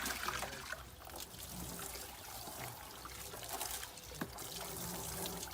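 Water from a garden hose rinsing in a greenhouse, a faint close trickling and splashing stream that runs continuously with small spatters.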